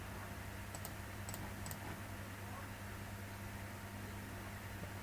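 A computer keyboard is tapped in a few quick, faint clicks while a value is entered in Creo CAD software, over a steady low hum of room noise and no speech.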